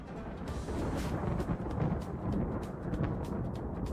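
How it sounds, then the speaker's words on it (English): A dry thunderstorm in the video game RimWorld gives a continuous low rumble of rolling thunder with crackling texture, steady and fairly loud throughout, with no talking. "Stop with the fucking thunderstorm!"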